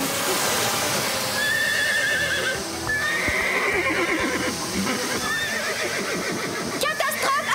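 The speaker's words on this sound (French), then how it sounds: "Marie et Rosa, aidez-moi à calmer les chevaux!" Cartoon ranch horses whinny loudly and repeatedly amid clip-clopping hooves and general commotion, with voices mixed in.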